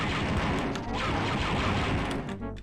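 Blaster gunfire in Star Wars: Dark Forces crackles in a dense, loud volley of overlapping shots and impacts, with a metallic clattering burst near the end and no talking.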